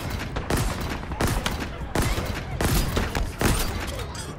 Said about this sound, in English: as soon as they all start firing on me